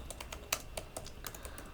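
Code being typed on a computer keyboard, a steady run of quick, light keystrokes with one sharper clack partway through, close and alone with no voices.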